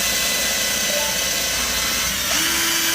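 A cordless drill runs with a flexible shaft attachment and makes a loud, continuous whirring whine close by, with its pitch shifting slightly as the motor load changes near the end.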